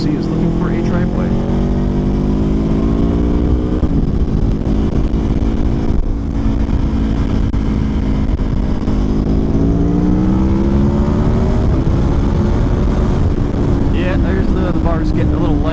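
A 2024 Aprilia Tuono V4 Factory motorcycle accelerates hard, its V4 engine note climbing steadily through the gears, loud and close with heavy wind rush, easing briefly before pulling up again.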